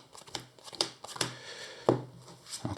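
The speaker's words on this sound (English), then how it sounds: "So quick shuffle to the deck" A deck of game cards for the Arkham Horror card game is given a quick shuffle, heard as a string of close, soft riffles and taps with irregular pauses and no talking.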